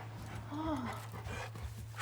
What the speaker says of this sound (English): it's a really cute dog